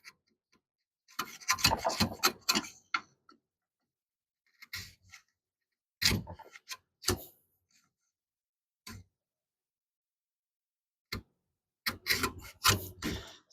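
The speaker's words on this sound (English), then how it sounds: "See if we can chisel it down just a little bit more." A chisel works wood on a deckbox in irregular bursts of scraping and paring strokes, close and fairly quiet, separated by stretches of silence.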